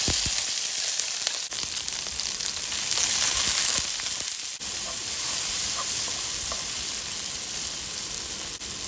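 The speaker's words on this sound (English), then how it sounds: "When the pot is very hot, we can put the vegetable first." Vegetables hit a very hot pot and fry with a loud, continuous sizzle and hiss, heard close up. The sound holds steady throughout, with faint stirring and scraping underneath and no talking.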